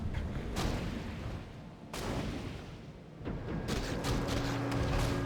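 Rifleman gunfire in a Warcraft III battle, rapid crackling shots in dense bursts with a few sharper cracks, mixed with other battle sounds at moderate volume.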